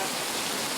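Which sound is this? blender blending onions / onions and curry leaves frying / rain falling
rain falling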